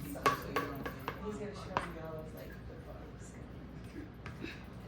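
A little spatula scrapes out a bowl, giving several clinks and scraping taps up close in the first two seconds and then quieter faint rubbing, with a person speaking over it.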